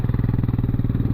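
An off-road motorcycle engine on muddy trails near Sakleshpura runs close and steady with a rapid, even pulsing idle throb and no voices.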